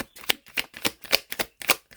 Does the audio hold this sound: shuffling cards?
yes